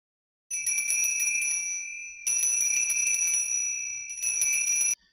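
A small altar bell rung at the consecration during Catholic Mass, giving three bright, sustained metallic jingling peals, each about two seconds long with brief gaps between, loud and close.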